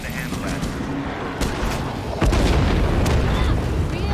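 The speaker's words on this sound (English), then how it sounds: "When you see my smoke, send in a mortar strike." Mortar strike in a video game, a heavy explosion landing a couple of seconds in and then sustained rumbling blasts and debris, over continuous battle noise and game ambience.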